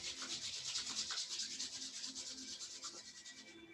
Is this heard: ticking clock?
no